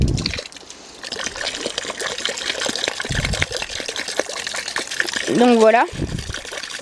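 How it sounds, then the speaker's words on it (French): Water trickles and pours into a garden pond being set up for fish, a light running splash under someone speaking French, with a brief high squeaky sound near the end. "je vais y mettre l'eau avec les poissons"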